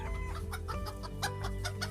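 Chickens cluck in a short, busy burst of repeated clucks as a sound effect in a mock podcast commercial, close and clear with no talk.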